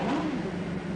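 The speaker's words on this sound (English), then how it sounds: "Mr. Motivator, rev your engine." A motorbike engine revving in a video game, a steady, loud, droning mid-pitched engine roar held throughout the short moment with no talk.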